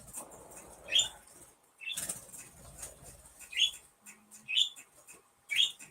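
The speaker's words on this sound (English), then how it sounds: "There's nothing I can do about the birds." Birds outdoors in daytime, with repeated bursts of wing flapping and a few short, bright chirps spaced across the stretch, fairly close and moderately loud, no talking.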